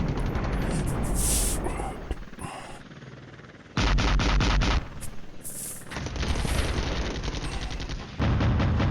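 Gunfire in the Cold War wargame Flashpoint Campaigns, with bursts of loud rapid shots and booms in clusters separated by quieter gaps, with no talk.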